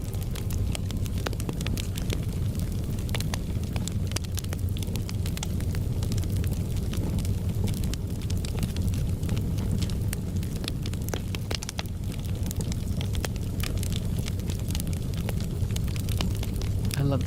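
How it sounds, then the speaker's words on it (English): Flames crackle and roar in a dense, continuous wash of pops and snaps over a low rumble, loud and close, with no one talking. "I love the sound of flames."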